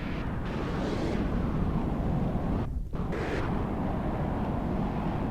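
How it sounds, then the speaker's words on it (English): A huge volley of missiles from the Omega Nightmare bursts in a continuous, dense roar of explosions in a vehicle combat game, loud and sustained with a brief dip midway, no voices. "letting off a huge volley of missiles, but once again, mostly distracted by flares"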